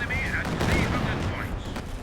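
Dense gunfire barrage in a big team World War II style video game battle, continuous rattling shots and blasts packed together at steady volume, with a voice talking over the fighting.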